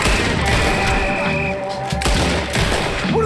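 A loud burst of gunfire from Red Dead Redemption 2 fills the moment with clustered shots and thuds over a steady game ambience.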